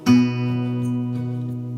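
A pair of guitar notes, fretted on the 4th fret of the 3rd string, is plucked at once with a clear attack, then rings steadily and slowly decays.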